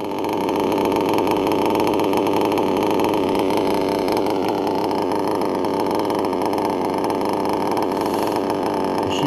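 A steady, loud, close engine idle runs very low with a bouncing servo, a continuous rumbling drone that holds on without dying and has no talking over it.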